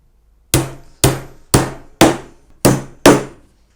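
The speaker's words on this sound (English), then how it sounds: "just to tack it down a little bit more, we'll do a nail between the two as well" Six sharp hammer blows drive a nail into a wooden National beehive super, spaced about half a second apart, loud and close with short ringing decays and no talk.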